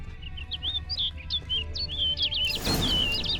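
In The Witcher 3, a bird chirps in a run of quick, bright, close tweets and trills over a low ambient hum, joined near the end by a burst of rushing, rustling noise.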